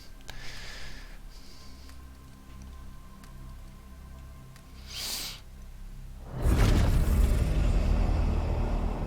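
A warp storm in Warhammer 40,000: Chaos Gate Daemonhunters rises as a low rumbling drone with a brief whoosh, then swells into a loud, dense roar that sustains to the end, with no talk over it.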